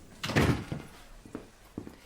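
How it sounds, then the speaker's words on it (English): An office door is pulled shut indoors, a brief thud near the start followed by a couple of faint knocks and shuffles in a quiet room. "Close the door."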